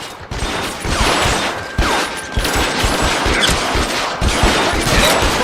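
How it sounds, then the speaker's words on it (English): Rapid rifle gunfire in the video game L.A. Noire, loud repeated cracking shots in dense bursts with echoing booms, filling the whole stretch without speech. "He's got a rifle or some shit."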